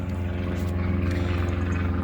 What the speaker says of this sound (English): Spy planes going over.